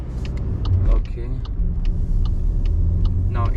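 Car pulling away and gathering speed on a driving test route around Horsforth, Leeds, its low engine rumble steady and continuous beneath a driver's commentary.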